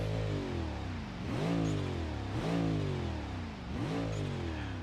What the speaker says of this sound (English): when I rev the engine